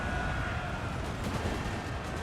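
Cannon firing regular shot in the Napoleon-era strategy battle game Napoleon Total War, a dense, continuous booming roar of artillery with a few sharper reports, loud and without talk.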